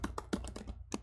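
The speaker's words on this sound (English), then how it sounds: "I'm just typing some code to get the min R just for science." Quick bursts of keystrokes on a computer keyboard while someone types code, light, close clicks in an uneven rhythm with brief pauses between clusters.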